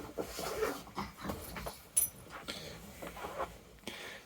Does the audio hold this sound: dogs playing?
yes